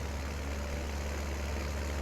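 A tractor in Farming Simulator 19 sits idling with a low, even, steady engine rumble that stays level throughout, with no voices over it.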